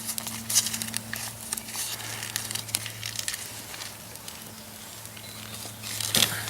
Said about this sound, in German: Schön, wie sich das Feuer da so hoch frisst.